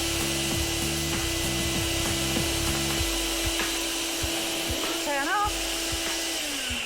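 A loud, steady droning vacuum pump sucks the air out of a clothes storage bag, running continuously throughout alongside rhythmic rubbing and creaking, while people talk over it.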